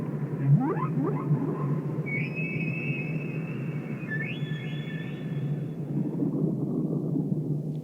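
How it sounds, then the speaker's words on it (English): Humpback whales underwater, high drawn-out whistling calls and a few sweeping cries rising over a constant low rumble, moderately loud and fairly distant. "the stunning impact of both sight and sound of humpback whales"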